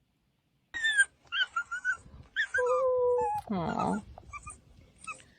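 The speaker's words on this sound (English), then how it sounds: "what you're watching here is a dog that's been abandoned" An abandoned dog whimpers and whines in a run of high, wavering cries with a short yelping burst, heard fairly close, while a person briefly reacts in a soft voice.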